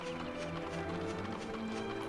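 Clip-clop of a horse from the video game Dragon Quest VIII, steady hoofbeats over a continuous bed of game music and ambience, with no talk.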